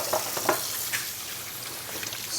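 Vegetables and an egg fry in a hot pan with a steady, close sizzle and a few soft clinks and stirring bumps, with no talking.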